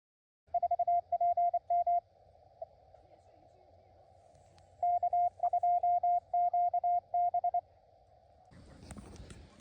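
Amateur radio Morse code tones beep out in quick rhythmic bursts at a steady pitch, two separate runs of keyed dits and dahs over faint hiss, followed by a burst of rustling noise at the end.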